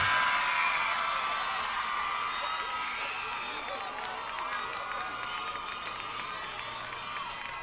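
Crowd at a Dothan High School homecoming football game cheering and applauding for the homecoming queen, a loud roar of claps and whoops that gradually eases but stays sustained throughout.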